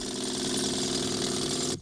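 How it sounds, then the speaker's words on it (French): A steady, loud jackhammer rattle pounds continuously while breaking up illegal road speed bumps during a demolition operation, then cuts off abruptly at the end. "Quelques coups de marteau-piqueur et c'est parti pour l'opération de démolition des ralentisseurs sauvages"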